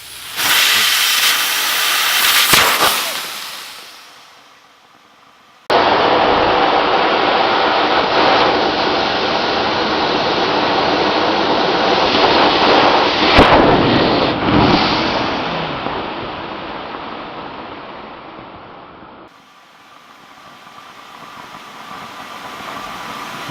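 A compressed air line bursts and blasts out rust, a loud sustained roaring hiss of escaping air that stops abruptly, starts again and holds for about fifteen seconds before fading to a lower hiss.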